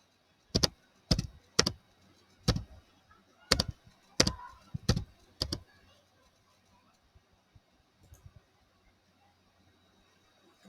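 Someone types a user name on a computer keyboard, about nine crisp, close keystrokes in an uneven burst, then a few faint stray clicks in a quiet room.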